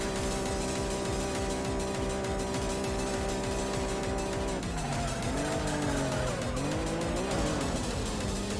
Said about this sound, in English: Wall grind number 2, coming up.